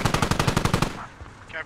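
Rapid automatic gunfire from a military shooter video game, a loud steady burst of about a dozen evenly spaced shots that stops abruptly, leaving faint ambient noise.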